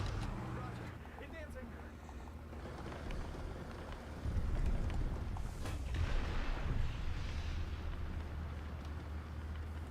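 Bombs explode in the War Thunder video game, heard as a deep rumbling blast that swells midway through ongoing low engine drone and battle noise, with someone talking over it.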